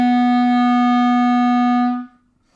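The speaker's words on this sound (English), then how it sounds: "C sharp sounds like this." A single sustained C sharp on a clarinet or saxophone, one clean steady tone held close for about two seconds before cutting off into silence.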